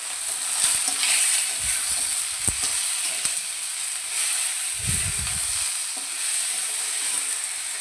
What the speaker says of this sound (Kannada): ಇದನ್ನು ಸಹ ಚೆನ್ನಾಗಿ ಬಾಡಿಸ್ಕೊಳ್ಳೋಣ